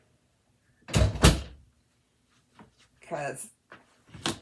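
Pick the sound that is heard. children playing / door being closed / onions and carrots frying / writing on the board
door being closed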